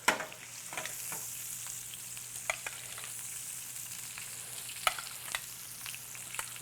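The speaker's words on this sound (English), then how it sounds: "Start basting right over the top. Same thing with the filet mignon." Filet mignon steak gets basted with brown butter in a pan, giving a steady close sizzle with scattered spoon clinks and splattering pops, no voices.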